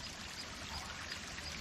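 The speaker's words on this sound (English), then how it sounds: "Now look at this small stream." A small stream running down from hilly tea estates on a trail near Rozella, Sri Lanka, a soft, steady trickle and pour of water close by, continuous and without speech.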